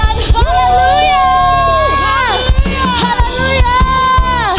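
A church congregation at a Sunday worship service shouting hallelujah together, a loud massed roar of voices with cheering and whoops, layered over amplified worship music and a leading singer.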